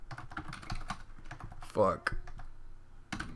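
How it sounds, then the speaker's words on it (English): Fast clicky typing on a computer keyboard sits close to the microphone in irregular bursts, with a man briefly cursing partway through. "I have my microphone in the way of the keyboard"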